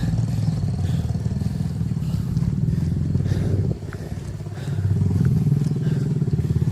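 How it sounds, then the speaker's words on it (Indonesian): Motorcycles rumble steadily along a mountain hiking trail on Mount Cikuray, a loud close engine drone that dips briefly then swells again as a bike passes. "Dan juga banyak lalu lalang sepeda motor yang mau berangkat ke kebun kawan-kawan."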